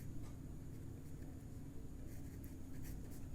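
Chalk scratches across a board during a surveying lecture, coming through as faint, brief strokes over a steady low room hum and hiss, with no talking at that moment.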